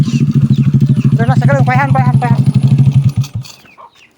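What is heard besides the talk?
motorcycle engine starting and running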